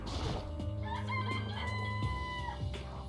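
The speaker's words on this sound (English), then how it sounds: "It's a chicken." A rooster crows in the video game Danganronpa, a loud drawn-out cock-a-doodle-doo with wavering harmonics, followed by a few shorter clucks and squawks close up.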